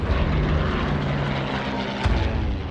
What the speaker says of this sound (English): Another formation of Japanese aircraft dive on the ships anchored along Battleship Row